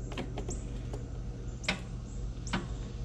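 A lawnmower starter clicks without cranking the engine, its sharp single clicks spaced irregularly over a steady low hum outdoors.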